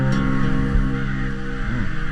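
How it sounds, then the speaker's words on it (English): Crows caw in big woods on public land on a windy October day, harsh calls carrying over a constant roar of wind, with no voices. "Lots of crows."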